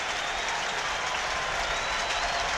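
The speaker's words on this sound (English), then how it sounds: "He gets a standing ovation from the crowd around the dugout" A baseball crowd around the dugout gives a standing ovation at a Dodgers–Giants game, with dense, sustained applause filling the whole stretch, steady and loud and without a break.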